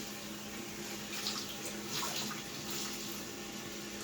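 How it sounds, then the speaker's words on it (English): Warm water runs steadily from a tap into a sink, a faint continuous splashing hiss that holds even throughout with no talk. "I'm going to use warm water"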